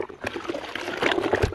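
Coleman CT200U mini bike engine part dunked over and over in soapy water, giving a steady close sloshing and trickling with small splashes and no talk.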